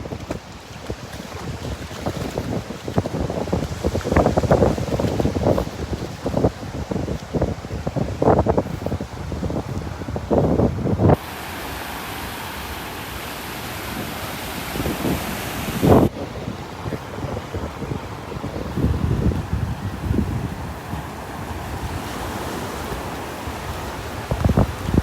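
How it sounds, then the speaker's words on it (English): Morning wind on the beach at Delnor-Wiggins buffets the microphone in loud, gusty rumbles over the wash of surf. The wind roar holds steadier and brighter for a stretch in the middle. "Walk with the wind here."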